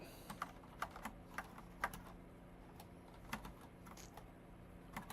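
Clicky computer keyboard typing at a desk, irregular bursts of close keystrokes with short pauses between them, quiet and without talk.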